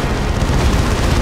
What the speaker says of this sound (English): Manticore goes off, misses pretty much everything.